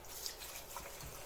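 Green papaya rolls rinsed under running tap water after soaking in baking soda water, a steady close trickle and splash of water in a sink with faint drips.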